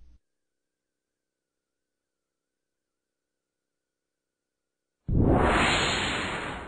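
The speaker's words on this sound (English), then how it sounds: "a whoosh to the final animation" A sharp whoosh effect bursts in suddenly and loudly on a Flash animation commercial, then slowly fades over its final second and a half after a long stretch of silence.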